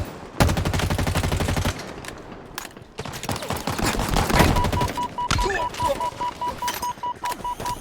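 Halo Infinite gunfire, including DMR shots: a rapid burst of loud, close shots, then scattered cracks and clatter, with a steady beep tone near the end.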